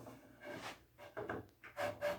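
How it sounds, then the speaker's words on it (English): Sandpaper rubbing the wood of a handmade rocking chair part, working a small spot at the bottom, in several quiet back-and-forth rasping strokes with short pauses between them. "I'm going to try to sand that little place just at the bottom out"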